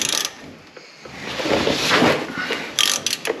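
Ratchet clicking while nuts are broken loose on the front end of a dirt track race car, a few bursts of rapid metallic ticks in a garage with background noise and no talk.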